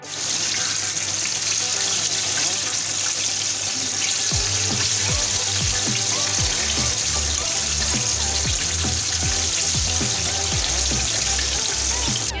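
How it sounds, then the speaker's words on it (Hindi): KFC-style chicken deep frying in hot oil, producing a loud, continuous bubbling hiss with irregular pops and spatters throughout. "देखिए आप अच्छे से फ्राई हो रही है।"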